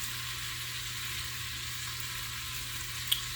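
Chopped garlic and ginger sizzling in an Instant Pot for a chicken stir fry, a soft, even hiss of frying that continues without a break, with one small click near the end and no voices.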